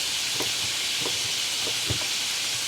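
Food sizzles and fries steadily in a cast iron skillet, a close, even hiss broken by a few soft pops and utensil taps, with no one talking.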